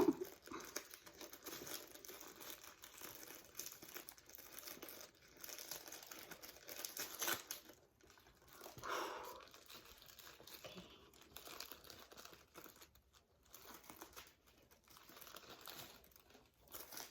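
Dior packaging tissue paper being torn open and crinkled by hand, a continuous close rustle and crackle with brief pauses, running the whole time without talk.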